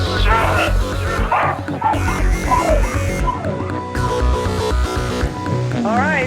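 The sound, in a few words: dog barking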